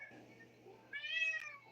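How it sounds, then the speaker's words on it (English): A house cat gives a single drawn-out meow partway through, fairly close and clear over a faint steady hum, with no talking. "quiet little kitty?"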